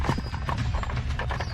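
Horse hooves clip-clopping at a steady trot as a small chariot is pulled along, a close, continuous rhythmic clatter with no talking.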